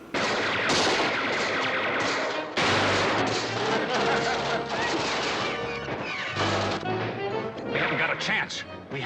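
MP40 submachine gun bursts crack and clatter in a Batman TV episode shootout with Ma Parker's gang, loud rapid volleys and crashes mixed with raised voices throughout.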